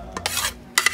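Mango chow being mixed and stirred with seasoning in a bowl, quick bursts of wet scraping and tossing in an uneven rhythm, close and alone.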